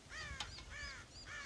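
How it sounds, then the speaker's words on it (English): Crows cawing in the video game Red Dead Redemption, several harsh, close caws repeating in quick succession, loud and clear with no talk over them. "God damn crows!"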